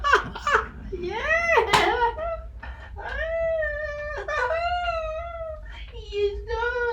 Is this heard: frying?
no